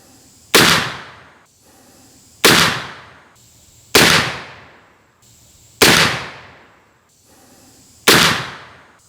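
A Colt pocket black-powder revolver fired with homemade black powder and a CCI number 11 cap: five loud, close shots spaced roughly every one and a half seconds, each with a sharp crack and a long decaying echo.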